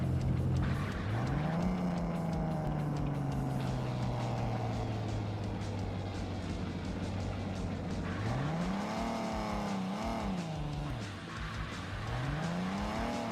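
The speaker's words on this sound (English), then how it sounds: "let's see how fast this engine will go" A car engine in the video game Underground Garage revs up and holds, then rises and falls in repeated surges, with tire noise under a steady synthetic engine drone.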